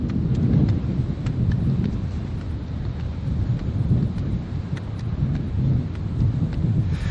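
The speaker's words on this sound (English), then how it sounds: "Must be pretty strong wind" Strong wind at Orient Point boat ramp buffets the microphone in a continuous roaring rush, loud and unbroken with gusty swells, no voices.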